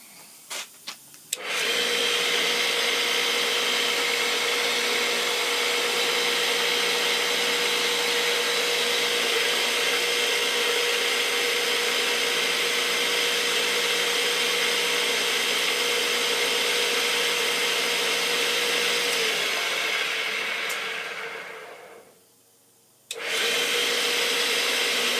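A homemade junk-built sand fluffer machine for a home foundry starts up with a couple of clicks, then runs with a loud, steady motor whine for about twenty seconds before briefly cutting out and starting again.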